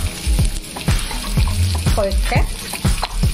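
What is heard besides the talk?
onions frying in a pan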